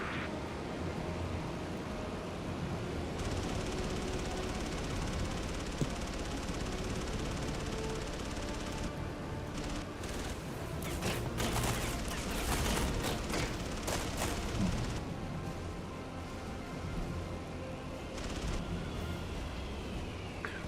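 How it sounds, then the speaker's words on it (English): Dense bursts of enemy gunfire and explosions in a WWII Battle of Midway video game, a loud sustained fusillade that swells in the middle and rumbles on without any voices. "We have incoming enemy fire!"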